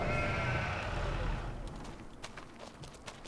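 Sheep bleating in Farming Simulator 25: one long, loud bleat that fades out, followed by faint, scattered hoof-like taps and soft farm ambience.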